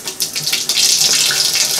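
Water runs steadily from a shower tap supplied by an Ecosmart Eco 11 electric tankless heater, a loud close hiss that starts abruptly and then holds even.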